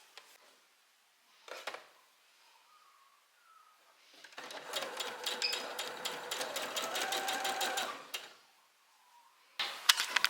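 Sewing machine stitching along the top edge of a strap on a sewn top, a steady rapid needle run of about four seconds between short bursts of quiet handling, close and clear.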